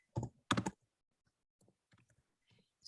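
Keys on a computer keyboard clack in a few sharp, close bursts, followed by sparse, quieter taps and a final click.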